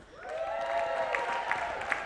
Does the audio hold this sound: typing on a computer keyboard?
no